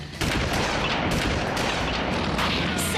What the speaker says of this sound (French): Ça ira mieux quand on arrêtera de nous tirer dessus!